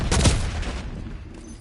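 A single loud sniper rifle shot from the Call of Duty video game, with a sharp crack followed by a decaying rumble and echo.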